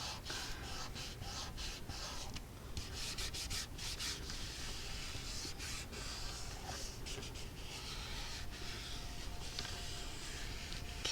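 A glued craft piece is rubbed down by hand with steady, close scuffing strokes that run continuously under faint breathing, with no talk.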